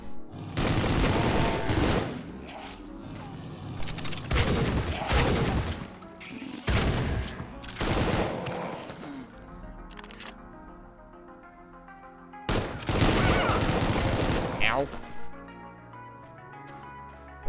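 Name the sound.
gunfire shooting at the player in video game Supplice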